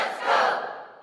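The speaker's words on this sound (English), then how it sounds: "that's a sleeper app cheering him on to make his pick" A short burst of crowd cheering from the Sleeper fantasy football app swells quickly and then fades away.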